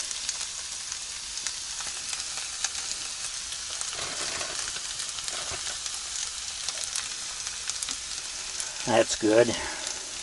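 Hash browns sizzle steadily on a griddle at a mountain campsite as cheese is added on top, a constant crackling fry with a few brief scrapes near the end; someone briefly speaks over it.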